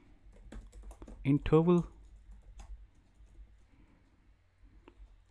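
Scattered keystrokes on a computer keyboard run through the clip, light and intermittent, with a brief spoken word partway through.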